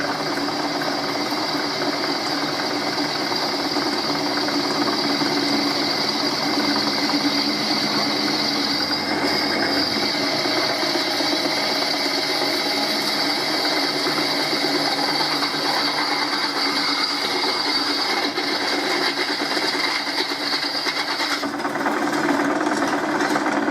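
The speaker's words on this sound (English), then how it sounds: "The steel drills very nicely." Steady mechanical whirring and grinding of a drill boring holes through steel while stripping down a Holbrook lathe, loud and continuous with a constant hum, shifting briefly near the end.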